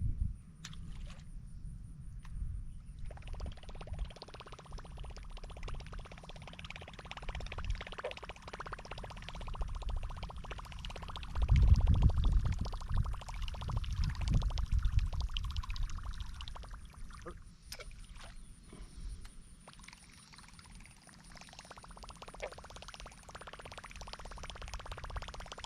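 Googan Revolver and River2Sea Whopper Plopper topwater fishing lures churning across the water, a continuous splashing, gurgling rush with a rhythmic plopping texture, swelling louder midway, with no talk.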